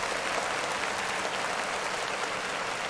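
Steady, dense applause from a crowd, a continuous crackling wash of clapping with no breaks and no talking.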